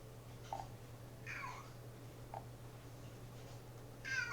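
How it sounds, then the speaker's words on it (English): A house cat meows several times nearby, short separate cries spread across a quiet room with a low steady hum underneath. "My cat's meowing."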